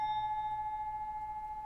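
A pinball machine bell sustains a single steady metallic ring that slowly fades, close and clear with no talk, in a pinball repair setting.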